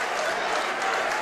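A gym crowd at a high school boys basketball regional semifinal roars and claps in a dense, continuous burst of disbelief after a foul call.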